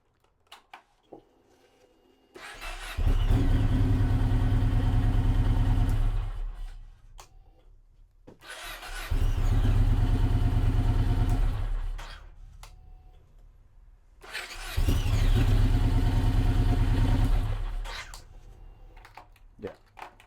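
A Yamaha MT01 motorbike, fresh from a starter solenoid replacement, gives three loud, close bursts of engine noise, each lasting about four seconds, separated by short quiet gaps.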